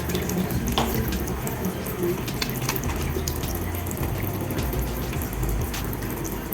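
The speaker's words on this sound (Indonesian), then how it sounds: "Yang pertama kita lakukan cuci tangan dulu" Water runs steadily from a tap as hands are washed beneath it, a close, continuous splashing hiss with a faint voice in the background.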